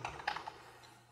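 Several quick, soft keystrokes on a computer keyboard as a username is entered into a registration page, tapping close by in a quiet room before trailing off into faint hum.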